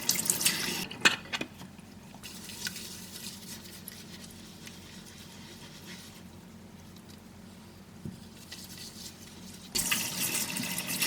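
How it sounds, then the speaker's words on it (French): Makeup brushes being rinsed under a running tap, a steady splashing water stream that starts loud, softens to a quieter trickle through the middle, then swells again near the end, with no talking. "Après, je rince une dernière fois"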